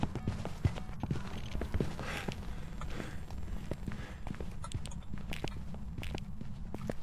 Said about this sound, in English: I can still hear the footsteps.